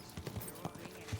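Horse hooves clip-clopping at a slow walk through a town in Kingdom Come: Deliverance 2, a short run of soft, uneven thuds close by.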